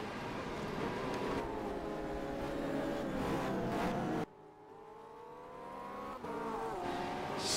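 A Porsche 997 race car engine from a racing video game at Kyalami drones steadily at high revs, a dense continuous roar that briefly drops as the gear shifts, then climbs again.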